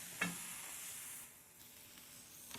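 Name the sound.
ribeye steak searing on a griddle pan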